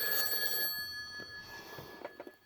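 A telephone rings with an unanswered scam call from card holder services, a bright, steady electronic ring up close that fades out, followed by a few faint knocks and rustles.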